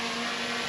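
DJI Mini 3 drone motors during landing, a steady, close, high-pitched whine with a constant buzzing tone, brief and loud.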